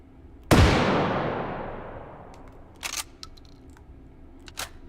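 A single loud, booming shot from a flintlock pistol in a gun video game, its long echoing tail fading over several seconds, followed by a few quieter mechanical clicks and clacks.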